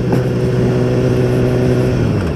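A car drives past on a canyon road, its engine a steady, loud mid-pitched drone with a slight rev, close by throughout.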